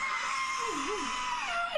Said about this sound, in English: someone screaming and the sound of like all this scuffling